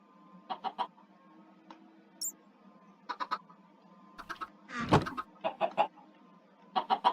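Chickens in Minecraft cluck in a scattered series of short, clipped calls, with one louder burst in the middle, against a quiet background.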